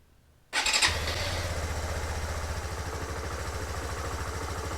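A fuel-injected Suzuki VanVan motorcycle, cold after a night in a cool garage, catches at once with a sharp burst and settles into a steady, close, thumping idle with even rapid pulses.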